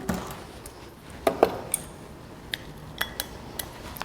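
Bean sprouts and filling ingredients get mixed in a bowl for a Korean dish, with light scattered clinks and taps of a utensil against the bowl, close and fairly quiet, with no talking.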